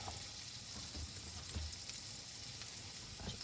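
Onions fry in plenty of butter in a pan, giving a steady, close hiss and crackle of sizzling that holds evenly throughout, with no voices.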